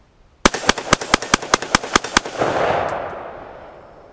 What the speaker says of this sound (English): I'm gonna go ahead and mag dump these down there